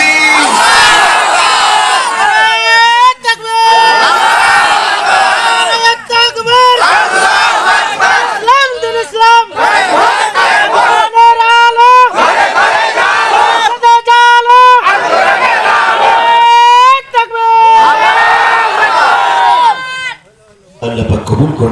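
Large gathered crowd at an Islamic religious sermon gathering shouts in loud unison in answer to a takbir call, repeated chant bursts rising and falling over about twenty seconds with brief gaps between.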